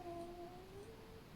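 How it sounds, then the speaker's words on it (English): A sleeping cat making soft dream vocalizations, a faint drawn-out murmuring mew that wavers in pitch, quiet and close in a still room. "My cat is dreaming. He's talking in his sleep."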